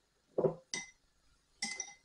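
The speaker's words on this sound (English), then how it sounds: "just get a pair of chopsticks or a spoon and just mix all this around, get that all coated" Chopsticks or a spoon stirring sliced beef in a soy sauce and oil mix, giving three separate clinks and scrapes against a bowl, close and fairly quiet with short gaps between.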